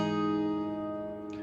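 Guitar chord strummed with the G string fretted at the 4th fret, a single sustained ringing chord that slowly decays, with a light handling sound at the very end.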